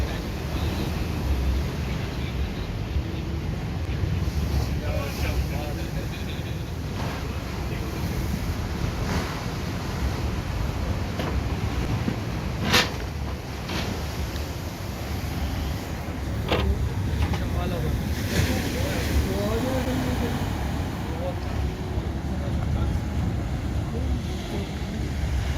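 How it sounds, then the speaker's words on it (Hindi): Cold, strong wind and a rough sea at Ajman beach in the UAE at night, with a continuous broad roar of surf and gusting wind buffeting the microphone, plus occasional sharper crashes. "आज बहुत ठंडी हवा और तेज़ हवा, समंदर बिफरा हुआ है"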